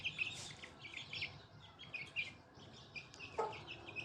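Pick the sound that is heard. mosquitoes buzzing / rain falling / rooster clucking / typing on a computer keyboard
rooster clucking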